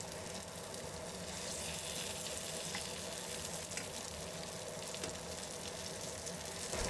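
Jalapeño peppers pan frying in hot oil for tigerskin peppers, a dense, steady sizzle close up with no break, swelling slightly toward the end.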